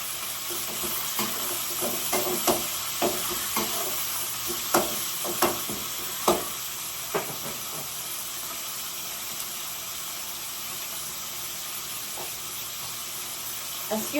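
Tilapia and vegetables fry together in hot oil with a steady sizzling hiss, broken by faint clinks and stirring taps from a utensil at uneven intervals, with no one speaking.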